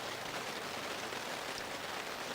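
Torrential rain pouring down at an outdoor drone racing event at a model airshow, a dense, steady hiss of heavy rainfall close by with no let-up throughout.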